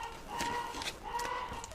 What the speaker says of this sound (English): I have a chicken in the background going nuts.